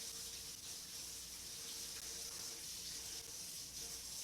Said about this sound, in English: My water's a little high powered right now